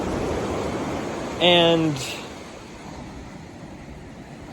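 Ocean waves make a steady, wide wash of surf that fills the background, with a brief spoken word over it.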